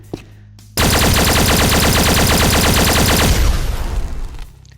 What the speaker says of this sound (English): And slot 4 is a plasma pulse gun.